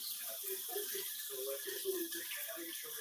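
Water runs steadily from a tap, a continuous hiss with gurgling splashes, heard close and fairly quiet without any talking.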